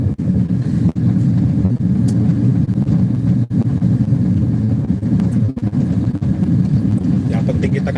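An old rented car drives along a road in Lampung, giving a loud, steady low rumble of engine and road noise with occasional bumps and knocks throughout.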